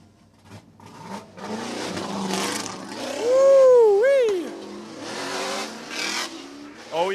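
A drift car pulls into the pit at a grassroots drift event, its engine revving hard in rising and falling sweeps, close and loud, while voices talk around it.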